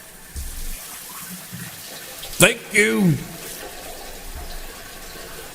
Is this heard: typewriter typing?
no